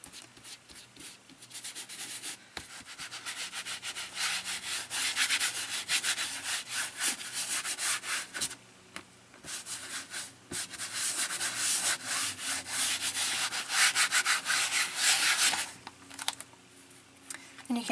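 Cloth rubbed over an acrylic painting of a goddess, a steady dry scuffing and brushing that swells and fades in long strokes, close and fairly quiet, with a brief pause midway.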